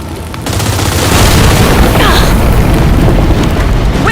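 Heavy, continuous gunfire and booming blasts fill a Gears 5 Hivebusters firefight, a loud dense barrage that swells after a quiet start and holds steady to the end.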